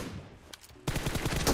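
Video game gunfire starts abruptly as a loud, rapid automatic burst after a quieter stretch, the shots coming in dense, close succession.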